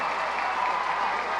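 A large, near-capacity baseball crowd at a Reading Fightin Phils game against the Harrisburg Senators applauds a base hit, with steady, dense clapping and cheering that fills the stadium.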